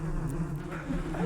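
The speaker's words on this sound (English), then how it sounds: "These are beautiful mason bees." Mason bees buzz in a soft, close hum with a steady low drone. It rises and falls slightly over a brief moment.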